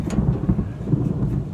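Thunder rumbling as a storm rolls in outdoors at a backyard barbecue, a continuous low, heavy roar with faint rain hiss over it, steady and fairly close with no voices.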